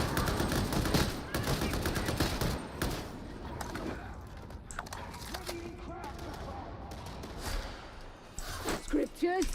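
Gunfire in Warhammer 40,000: Darktide, including a bolt gun, with dense bursts of shots early on that thin into scattered firing amid background game noise, with voices speaking over it.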